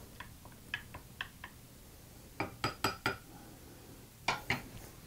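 A metal spoon clinks and taps against packaging from a thirty-year-old MRE survival ration, sounding as a series of short, close, bright clicks in small clusters with brief gaps and no talking.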